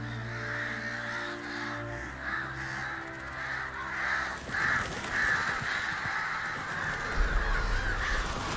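Repeated harsh crow caws ring out in The Witcher 3, a series of rhythmic calls over steady game ambience that thins into a rougher, noisier backdrop partway through.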